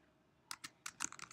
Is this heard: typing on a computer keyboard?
yes